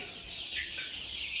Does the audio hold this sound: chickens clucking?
yes